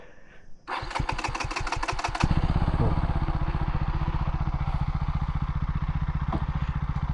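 A KTM Duke 200 motorcycle is started close by, a quick starter crank catching into a loud, steady single-cylinder idle with a fast even thump.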